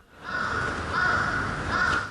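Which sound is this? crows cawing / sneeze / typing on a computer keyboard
crows cawing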